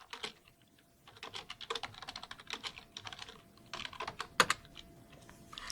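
Rapid, uneven clatter of keys on a computer keyboard as a git status command is typed, close and clear, in bursts with short pauses and one sharper keystroke near the end.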